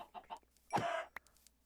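A chicken in the Minecraft video game clucks a few short notes and then gives one longer squawk, close and clear with nothing else over it.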